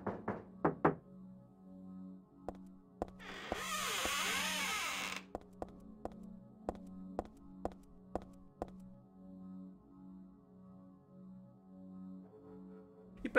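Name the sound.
knocking on bathroom door in Silent Hill 3 video game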